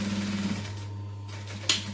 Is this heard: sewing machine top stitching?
yes